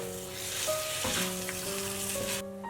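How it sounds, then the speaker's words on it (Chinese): Chili and egg stir-fry sizzles loudly and steadily in a wok as soy sauce is drizzled in and stirred through, with faint scraping of the spatula. "再沿着锅边淋上一点点生抽调味，把它搅拌均匀"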